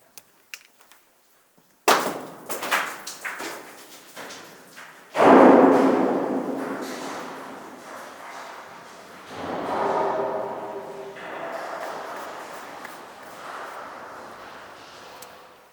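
A large rock is dropped down a mine shaft chute at Mineral del Chico. A sharp crack comes first, then loud tumbling impacts that echo and rumble as it falls. A booming crash follows, fading through long, hollow, reverberating knocks from deep below.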